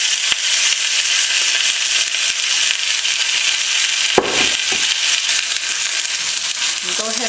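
Food fries steadily in oil in a pan, a loud continuous sizzle and crackle close up, broken by a brief clatter partway through.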